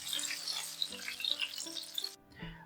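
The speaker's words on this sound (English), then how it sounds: "Fry for 3 minutes on each side or until golden brown" Battered chicken karaage fries in hot oil, a continuous crackling sizzle with scattered pops over a low hum, cutting off abruptly near the end.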